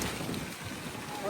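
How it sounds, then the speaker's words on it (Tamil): Wind rushes across a rooftop garden, a steady broadband roar buffeting the microphone with no break for the whole brief moment. "சரியான காத்து ஃப்ரெண்ட்ஸ், சூப்பரா இருக்கு."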